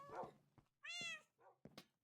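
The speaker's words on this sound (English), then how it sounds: "there's just a random cat that spawned" A Minecraft cat meows several times in quick, short calls, one drawn-out clear meow among them, faint and alone with no talk.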